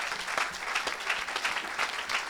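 An audience at a French-language evangelical church service claps and cheers, dense sustained applause with rhythmic clapping, loud and close, filling the whole moment.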